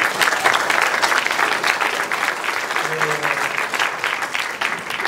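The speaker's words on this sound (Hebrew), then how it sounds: "אני חושב שמגיע לה הרבה מחיאות כפיים." Sustained applause from a school audience at a technological high school, thanking a speaker who was kidnapped to Gaza; dense, steady clapping from a crowd filling the full five seconds without a break.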